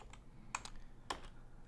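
A few crisp computer keyboard keystrokes come up close as a short command is typed, with separate clicks in a small burst and a pause in between, over a quiet room hum.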